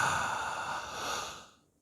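A deep, open-mouthed inhale during a yoga sun salutation, one long breathy draw lasting over a second and tapering off, close and fairly soft, with no talking.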